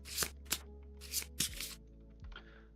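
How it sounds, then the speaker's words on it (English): Playing cards for the Kingdom Death board game shuffled by hand in several quick riffle bursts, close and crisp, followed by a softer rustle as they settle. "Let's flip these back over and shuffle them up."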